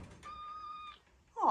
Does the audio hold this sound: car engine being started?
no